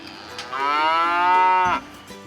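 A single long cow moo from a neighbouring cattle farm beside a small homestead, loud and fairly close, rising and holding for over a second before breaking off, with no talking.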